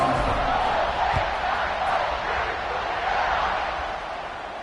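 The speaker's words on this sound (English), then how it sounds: "They're set to kick it off, and this crowd now ready to get behind them." Football stadium crowd at kickoff, a broad steady roar of many voices cheering and shouting, sustained and loud throughout with slight easing toward the end.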